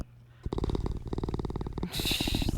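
A pet cat named Pickle, a diabetic male, purrs loudly and steadily up close in rhythmic pulses, with a brief quiet start and a breathier, hissing stretch near the end.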